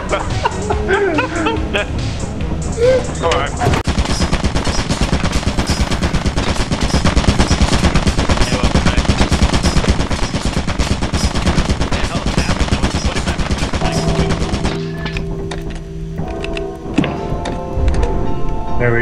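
A turret in the Lethal Company video game fires long rapid bursts of automatic gunfire, loud and dense for about fifteen seconds before cutting out.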